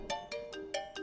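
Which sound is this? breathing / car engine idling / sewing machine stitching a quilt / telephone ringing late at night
telephone ringing late at night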